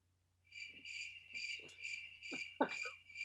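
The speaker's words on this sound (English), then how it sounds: "Go back to that cricket sound." Cricket chirping in a steady pulsing series of high trills, fairly close, with soft low thumps beneath and a steady low hum.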